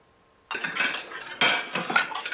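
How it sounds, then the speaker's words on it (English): Plates and cutlery clatter and clink in two bursts as dishes are handled and washed at a kitchen sink, close and fairly loud with no talking. "I'll do the dishes."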